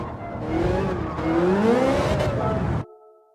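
A race car in Gran Turismo 7 spins out in second gear at a chicane, its engine droning and sweeping in pitch with tire squeal for nearly three seconds before cutting off abruptly to quiet menu tones.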